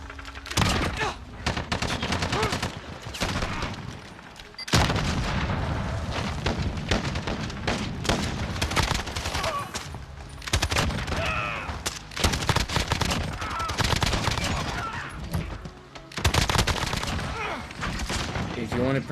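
Gunfire in Call of Duty Warzone during a warm-up match against bots: dense, loud bursts of automatic rifle fire and sharp single shots crackle almost nonstop, with booming impacts and brief lulls between volleys.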